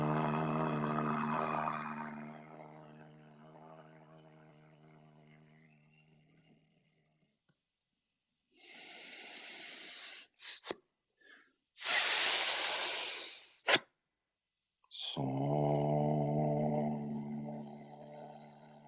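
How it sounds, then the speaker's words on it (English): Deep breathing during a healing class: after a long humming tone, several loud hissing inhales and exhales come in separate bursts, close and airy, with a brief humming tone resuming afterward. "Breathing deep."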